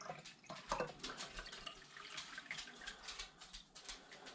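Sugar syrup for bees, a 1:1 sugar-and-water mixture, trickles and splashes as it is poured to fill a container, with an irregular wet pattering that comes close and stays fairly quiet throughout; no one talks.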